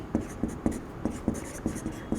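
A marker or chalk writes on a classroom board during a physics lesson, a run of quick, evenly spaced taps and short strokes, near and crisp, with no talking over it.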